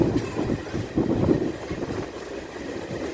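A DEMU train pulls out of Balanagar station, a steady rumbling roll with the rhythmic clack of wheels over rail joints, heard from on board at moderate loudness throughout.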